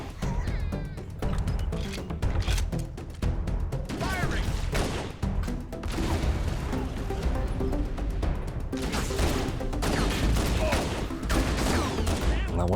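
Rapid bursts of gunfire in Halo: Combat Evolved Anniversary, dense and loud with repeated sharp cracks and rattling volleys filling the whole stretch, plus occasional game effects and brief chatter beneath.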